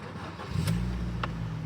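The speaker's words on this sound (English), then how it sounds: "What a healthy sounding engine that is." A car engine with about 140,000 miles runs and revs up steadily, a strong low rumble swelling partway through and holding close and clear, with no talking.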